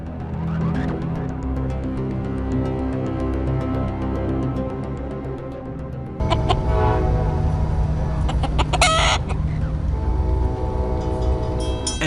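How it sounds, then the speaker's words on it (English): A chicken clucks on a railway track as a train rumbles loudly and steadily, growing louder and harsher partway through, with sharp metallic squeals over the din. "A chicken on the track, where did it come from?"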